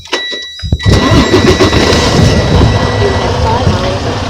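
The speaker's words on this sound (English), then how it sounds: "you start up your truck" A semi truck's engine is started for coupling a trailer: a brief starter crank catches, then settles into a loud, steady, close diesel rumble.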